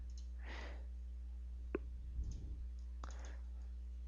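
Computer mouse clicks: two short, sharp clicks a little over a second apart, close over a quiet background hum with faint breathing, and no talk.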